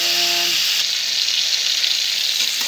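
Eggplant hits a pan of frying onion and turmeric with a loud, steady sizzle that hisses continuously. A short tonal whine sounds at the start.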